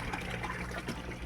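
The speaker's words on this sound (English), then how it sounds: "So I'll run the pump a few times, get these all filled back up" A pump runs as water pours into holding tanks, giving a steady, close splashing and trickling rush with no pauses.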